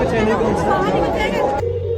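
Dense crowd chatter fills a busy Sunday Uttarakhand folk fair in Noida, with many overlapping voices in a continuous loud babble, food stalls and queues nearby, one tonal voice standing out before the hubbub thins slightly near the end.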